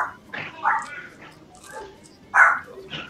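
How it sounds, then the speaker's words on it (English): Several dogs barking and yipping in short agitated bursts indoors, with the loudest bark near the middle and a person's voice speaking faintly around them. "Hang on, my dogs are freaking out."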